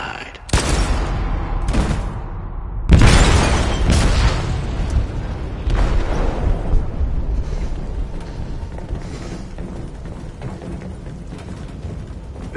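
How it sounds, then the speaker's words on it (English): Explosive detonating in a ship's hold in a video game: several heavy booms and blasts in close succession, then a long rumbling, crackling roar that slowly fades. "They detonated an explosive in the hold."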